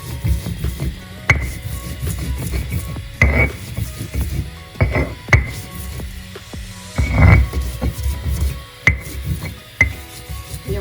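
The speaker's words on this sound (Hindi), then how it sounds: "इसमें अच्छी तरह ये देखें हमारे बादाम और ये खोपरा अच्छी तरह पीस के देखें।" Almonds and coconut are ground on a silbatta grinding stone, heard as repeated rough scraping and knocking strokes at an irregular rhythm, close up, with no talk.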